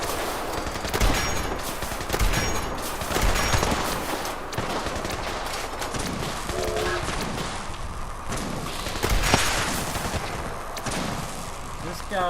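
Rapid bursts of laser gunfire in Fallout 76 crack out repeatedly in a dense, chaotic firefight, loud and close with layered shots and impacts, while a voice talks over the action.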